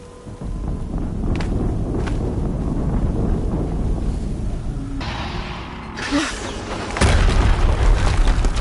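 Explosion in the video game Horizon Zero Dawn: a loud, sustained rumbling boom with wind-like roar, followed by a sharper blast near the end.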